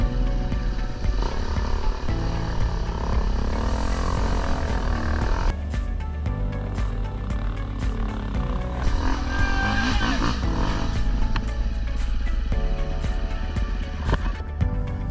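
Dirt bike engine revving at Frying Pan Creek trail riding weekend, loud and continuous with rising and falling revs, other engines droning close by throughout.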